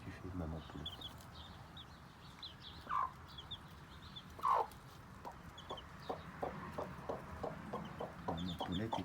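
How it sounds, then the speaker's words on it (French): A mother hen sitting over her chicks clucks in soft, low bursts, a couple of louder clucks standing out among steady muttering, close by and mixed with faint background voices. "Qu'est-ce que tu fais, maman poulette?"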